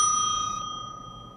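A single bright bell ring from the video game Poptropica, clear and close, with a ringing tone that fades over about a second.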